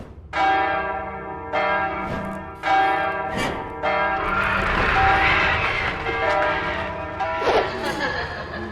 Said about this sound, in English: we can actually ring the bell up here in the belfry